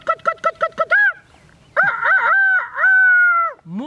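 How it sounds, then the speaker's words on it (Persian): Several short clucks in quick succession, then a loud rooster crow answered by another drawn-out crow, close and clear, with no talk over it. "مرغ"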